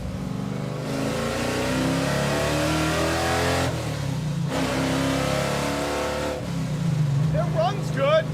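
A 1965 Ford Econoline van engine runs loud and close, revving up and holding a steady mid-pitched roar, dropping briefly, then revving again; voices talk near the end.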